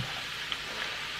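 Meat hitting a hot pan in a Finnish home kitchen, a steady soft sizzle and crackle of frying, faint and continuous with no talk.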